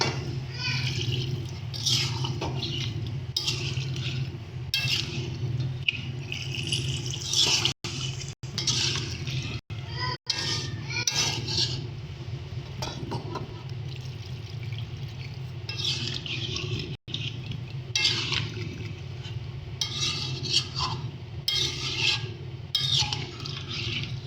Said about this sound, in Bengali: এবার এর মধ্যে অল্প অল্প সামান্য পরিমাণে জলটা অ্যাড করব।